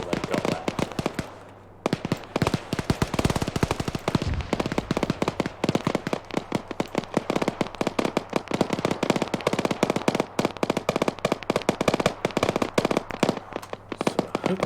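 Dense, continuous video-game gunfire: rapid machine-gun bursts and sharp shots crackle nonstop, with a heavy mortar blast booming around the four-second mark, loud and close throughout.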